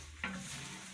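Meat cooking in a pot over a wood fire, a soft steady sizzle with one brief stir or clink near the start, quiet and close.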